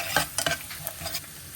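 Garlic chutney hitting a hot pan, a close sizzle with a few sharp stirring scrapes and clatters, short and busy, with no voices.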